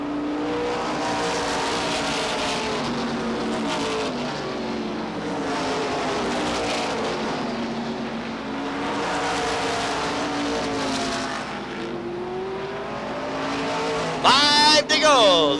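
Stock cars racing at Beech Ridge Motor Speedway in 1989, a loud continuous engine roar rising and falling as the cars circle, with a sharp burst near the end, under steady race commentary.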